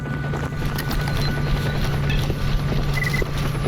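A chopper flying in the video game Stalker Anomaly gives a constant low droning rotor hum for several seconds, steady and fairly loud, with faint clicks and ambient game noise layered over it.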